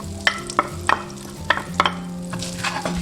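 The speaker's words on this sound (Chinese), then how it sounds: "锅中加入10克黄油，下入咸蛋黄" Salted egg yolk frying in 10 grams of butter in a pan sizzles softly while a utensil stirs and taps against the pan in irregular clicks, close up with no talking.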